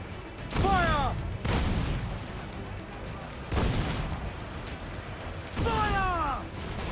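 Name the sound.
ship cannons firing in the video game Assassin's Creed IV Black Flag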